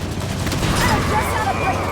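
Gunfire rattles through a Halo 5 battle, dense bursts and booms with vehicle rumble mixed under spoken game dialogue, loud and continuous throughout.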